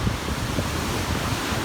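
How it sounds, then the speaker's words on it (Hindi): Strong sea waves crash onto the shore at Manora Beach, a loud, steady rushing surge with wind-blown roar and no pauses. "ये बहुत तेज़ जो है वो लहर आई है और अभी किनारे पे आके ये टकरा गई"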